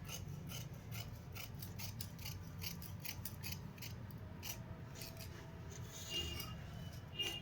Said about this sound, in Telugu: ఇప్పుడైతే కటింగ్ చేద్దాం.